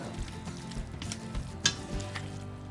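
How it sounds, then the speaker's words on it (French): Spinach wilting in a sauté pan, a steady broad sizzle of frying greens with a few scraping stirs and one sharp utensil clack, close and continuous with no voices. "nous on a décidé de faire fondre les épinards comme ça à la sauteuse"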